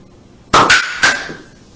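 A film canister rocket fuelled by an Alka-Seltzer tablet and water pops its cap with a sharp, loud bang, then a second ringing clack shortly after, in an otherwise quiet room.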